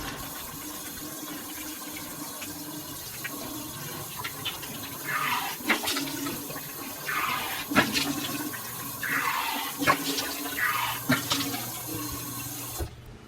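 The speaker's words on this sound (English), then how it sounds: "I'm just gonna quickly wash my face" Water runs from a bathroom tap during face washing, a steady close rush with splashes and shifting gurgles that swell in the middle before cutting off near the end.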